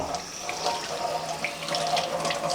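A tap runs steadily into a sink while a Barbie doll is washed, the water loud and constant with small splashes and trickles.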